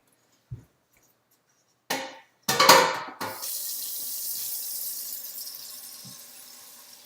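Kitchen tap switched on after a few clunks and knocks, water pouring steadily into a pot and slowly quieting as it fills, close and loud; no talking.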